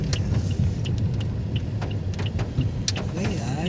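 A Toyota Vios engine climbs uphill with a steady, loud low rumble that holds even throughout, with faint clicks and a brief voice over it.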